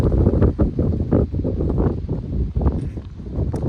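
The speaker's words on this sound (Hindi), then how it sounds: "देख रहे हो कितना हवा चल रहा है।" Strong wind gusts roar and buffet the microphone outdoors in Leh, Ladakh, a loud, rumbling low rush that surges and eases unevenly throughout.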